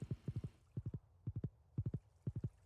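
Horse hooves clip-clop in quick triple clusters as a rider travels on horseback in a video game, repeating steadily at a moderate pace; the footfalls are crisp and close with nothing over them.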